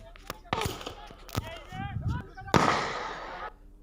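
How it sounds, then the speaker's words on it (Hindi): Gunshots fired by an accused person in a filmed dispute, a few sharp cracks and pops close by, mixed with shouting voices and crowd commotion, then a loud burst of noise near the end. "ये देखिए फायरिंग का वीडियो भी सामने आया, जिसमें आरोपी फायरिंग कर रहा है"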